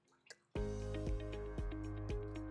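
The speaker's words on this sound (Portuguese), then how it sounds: "eu botei um pouco de água aqui dentro" Water streams into a pot of broth seasoned with spices and butter. A sudden steady pour begins after a brief pause and carries on with faint drips and splashes throughout.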